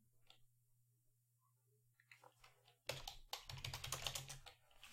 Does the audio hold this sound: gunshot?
no